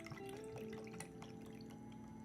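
Soda water poured for a drink, a steady fizzing, bubbling stream with small splashy drips running throughout, close and continuous with no talk.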